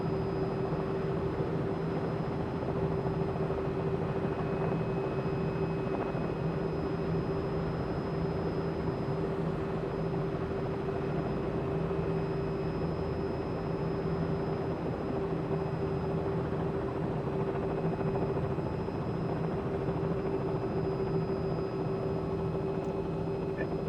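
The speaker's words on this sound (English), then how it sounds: "So the helicopter, the R-66, feels really good." Robinson R66 helicopter flown in Microsoft Flight Simulator on Xbox Series S, heard as a steady, unbroken drone of engine and rotor with a thin high whine on top, constant in loudness throughout with no voices.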